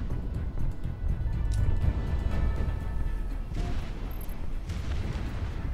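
Artillery fire and missile impacts in the flight combat video game Project Wingman, a faint, continuous rumble of low booms and rolling blasts with a few sharper bursts mixed in.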